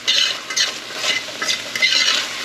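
Garlic, about eight cloves, being stirred into sizzling tomato garlic chicken in a pan, with a steady frying hiss and repeated scraping strokes of the stirring utensil close by, with no talking.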